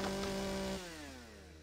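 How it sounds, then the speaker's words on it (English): A chainsaw in the video game Empyrion Galactic Survival runs with a steady buzzing drone, then cuts off and winds down into a fading whine. "Chop some more trees on the way through as well."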